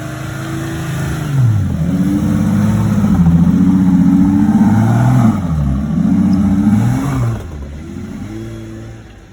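A Jeep's engine drones and revs as the vehicle climbs a sand hill, with a loud, steady, close-up note that rises and falls with throttle changes over several seconds, then eases off toward the end.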